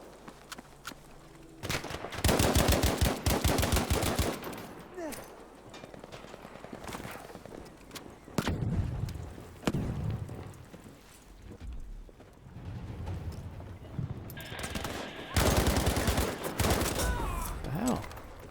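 Battlefield V gunfire crackles in rapid bursts and volleys at moderate distance, with scattered single shots and shuffling movement between the salvos.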